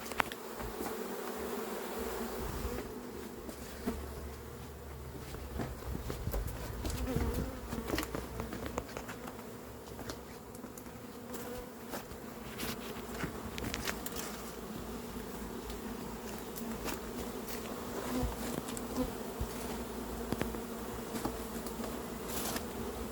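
A dense swarm of honey bees, recently settled in Vaux-le-Pénil, drones on without a break while it is gathered into a box. The steady buzzing of many insects stays close and even, with light handling knocks and rustles over it.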